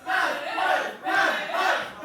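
A wrestling crowd at a P.E.W. show chants in loud, rhythmic surges that swell and dip in two broad waves, the massed voices close and filling the hall.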